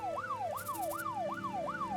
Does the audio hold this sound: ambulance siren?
yes